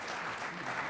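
Steady applause from an audience at a men's choral society gathering, a dense, even patter of clapping lasting about a second with no pauses.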